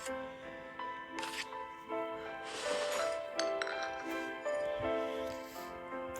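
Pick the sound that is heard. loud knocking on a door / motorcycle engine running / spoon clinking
spoon clinking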